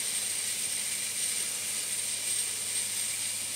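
Steady, even steam hiss, continuous and fairly close, from steaming fly-tying feathers to restore their shape, with no other sounds or voices.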